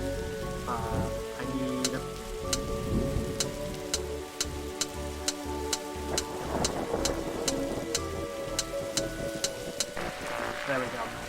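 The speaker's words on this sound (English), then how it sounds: "Look, Detective, the storm is dying out." Steady rain patters through a stormy scene in The Darkside Detective video game, with regular sharp ticks and low rumbles running under background music while a voice speaks briefly.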